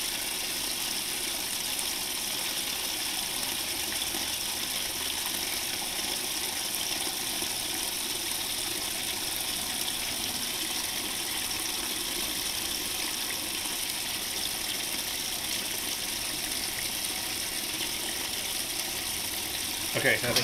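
A 1998 Whirlpool top-load washer fills with water, a steady even rush of incoming water and pump hum holding constant and fairly faint from start to finish.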